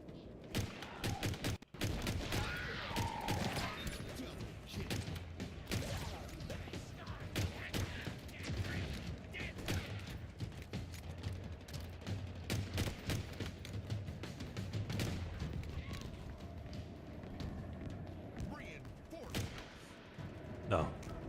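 Chaotic gunfire in a shooter video game, dense rapid shots and thuds running continuously in the background for the whole stretch, mixed with game noise and a voice talking over it.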